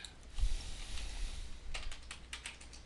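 Keystrokes on a computer keyboard used with a talking word processor, a quick run of taps and clicks, close and fairly quiet, with no voices.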